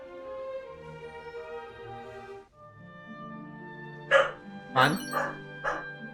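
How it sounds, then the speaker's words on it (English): An excited pet dog barks several times in short, sharp bursts near the end, close and loud indoors, after a stretch of game music and a brief spoken line. "My dog wants to go downstairs, that's why she's barking insanely."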